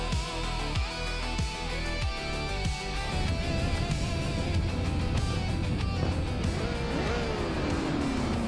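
Racing video game engines, a classic 1966 McLaren M10A in the Formula 5000 class at Tor Poznan, roaring loudly as the race gets underway, with repeated revving surges early on, then a dense sustained drone and a rising whine near the end.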